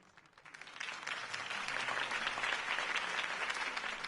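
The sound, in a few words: crowd applause in a video game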